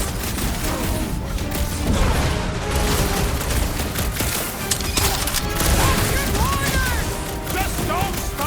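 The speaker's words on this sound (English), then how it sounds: "Just don't stop shooting!" Gunfire in the video game Marvel's Guardians of the Galaxy, with dense bursts of shots mixed with heavy booms and clattering impacts that keep up loudly and continuously through the fight.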